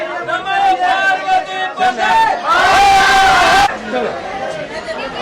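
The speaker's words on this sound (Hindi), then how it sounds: "आप देख सकते हैं जो भीड़ है सुबह से ही पहाड़ी मंदिर में देखने को मिल रही है" A crowd of devotees at a hill temple on a Sawan Monday, with loud overlapping chatter and raised voices and a burst of louder shouting in the middle.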